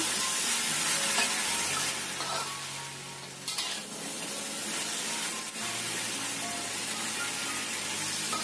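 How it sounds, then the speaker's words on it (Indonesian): Broccoli hisses and sizzles in a hot pan over medium heat as it is stirred, a loud, steady frying crackle with scraping of the utensil and brief dips while the pieces are turned. "Setelah sekitar 2 menit kita tumis, masukkan brokolinya. Kita aduk sampai rata."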